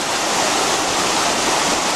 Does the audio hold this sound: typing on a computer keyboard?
no